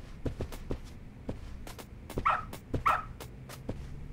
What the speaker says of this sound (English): Good dog. Very good dog. Arf, arf.